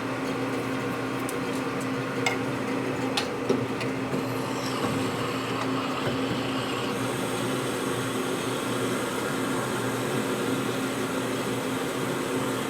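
Drill cutting through a transmission part of a 1961 Harley Sportster XLCH, a steady mechanical whine and hum with a few scattered ticks early on, continuous and fairly loud.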